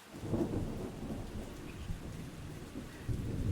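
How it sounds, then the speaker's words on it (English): Rumbling thunder rolls through a steady rainstorm, low and continuous with a couple of heavier swells, heard alone and fairly quiet. "Thank you for the thunder."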